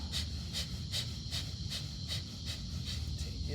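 Rhythmic breathing from a group yoga class, steady repeated breaths with a breathy hiss recurring roughly every half second over a low room rumble, no talking.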